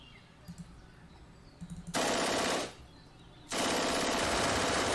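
Sustained bursts of automatic gunfire in the World War II strategy game Panzer Campaigns France 40, set around the Arras counterattack: two long, loud, dense volleys separated by a brief pause, after quieter background.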